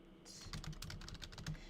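Rapid keyboard typing on a computer, a steady run of close, crisp key clicks with no voices.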